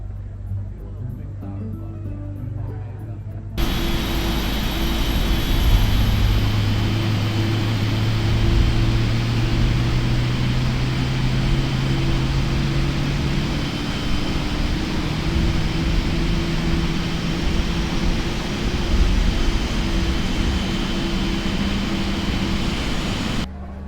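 Cathay Pacific Boeing 777-300ER engine spooling up in a flight simulator: a steady, loud broadband roar sets in after a few seconds of near silence, with rising tonal whines climbing gradually beneath it, continuous to the end.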